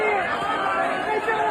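A crowd jeers at police: a loud, dense mass of shouting and overlapping voices, close and continuous throughout.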